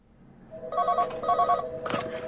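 Telephone ringing in a radio drama, three bright electronic rings in quick succession, the last one cut short, close and clear over a quiet room.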